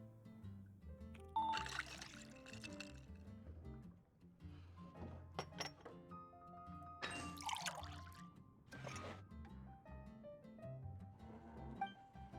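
Water pouring into a drink in Genshin Impact, several bursts of trickling and splashing liquid set against a soft game music bed, moderately close with pauses between pours and no talk.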